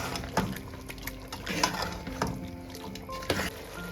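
Chicken feet frying in oil with garam masala in a pan, stirred with a spoon that scrapes and clinks against the pan in repeated close strokes over a soft sizzle, with no talking.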